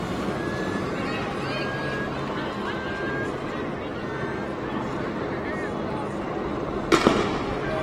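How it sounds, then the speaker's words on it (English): Gunfire aimed at people leaving a building during downtown Minneapolis street unrest, heard as a single sharp crack near the end over a steady crowd din with voices and a faint siren-like tone. "they're shooting at people coming out the establishment"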